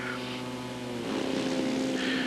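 A quarter-scale model airplane with an 83-inch wingspan, powered by a Saito 180 four-stroke engine, drones steadily nearby, its buzzing note swelling louder and slightly lower partway through.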